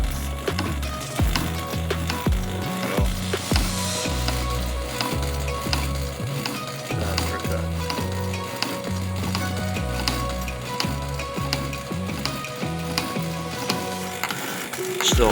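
A machine tool takes a heavy cut in metal. It makes a busy, crackling, sizzling chatter with irregular low knocks, holding steady and close without slowing.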